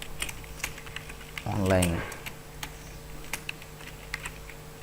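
Fast typing clatters on a computer keyboard during work in Microsoft Excel, with rapid clicks throughout and a short burst of speech partway through.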